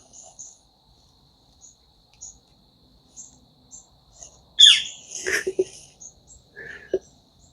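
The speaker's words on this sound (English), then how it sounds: "That bird isn't happy with me." A bird in the woods at the edge of a deer-hunting kill plot gives a few sharp, agitated calls in a brief burst midway, loud and close, over a faint steady cricket chirping and scattered soft chirps.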